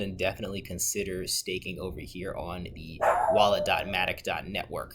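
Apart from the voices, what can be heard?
dog barking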